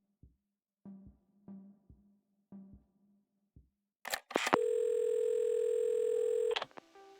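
A phone receiver is picked up in the video game Assemble with Care: a few soft handling clicks, then a steady, loud continuous dial tone holding for about two seconds before cutting off.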